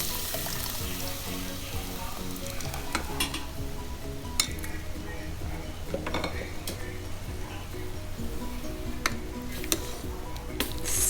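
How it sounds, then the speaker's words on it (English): Masala and dal being stirred and fried together in a pan for carrot beans sambar, with a continuous soft sizzle and repeated scraping and clinking of a spoon against the pan. "I'm gonna mix the dal into the masala that's getting fried."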